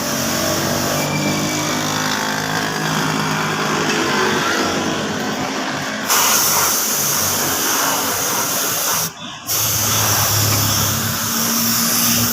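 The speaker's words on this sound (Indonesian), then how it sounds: "Kita semproti cat dasarnya bagian yang terlalu sudah kusam gitu." Spray gun hisses steadily and loudly as primer paint goes onto dull areas of a motorbike at a roadside paint shop, with a compressor-like drone underneath and brief interruptions between passes.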